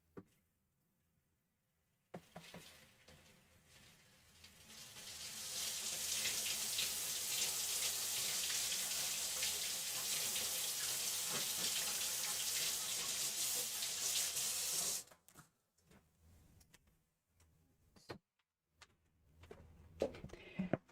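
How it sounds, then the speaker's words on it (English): Water gushes steadily from a sink tap for about thirteen seconds as an item used for embossing in a craft session is washed off, loud and close, then cuts off, leaving scattered clatters. "wash this off real quick"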